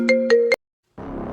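Phone ringtone for an incoming call, three quick bright chiming tones in a row, then a short pause before a buzzier tone starts again, loud and close.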